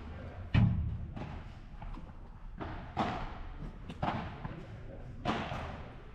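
Padel ball thuds against the glass wall during a P100 tournament match, a handful of sharp knocks spaced about a second apart, mid-distance, with crowd and court noise around them.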